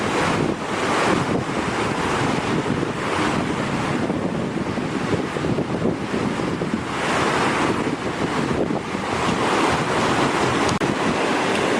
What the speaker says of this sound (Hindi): ये देखिए नदी कैसे तेज़ बह रही है बर्फ़ के अंदर से